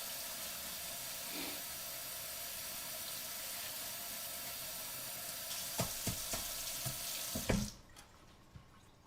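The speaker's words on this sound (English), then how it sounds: "be sure to rinse that sucker off and get all the soap out of it" Water runs steadily from a tap into a sink while a pan is rinsed of soap, a continuous hiss with a few clinks of metal near the end before the flow stops abruptly.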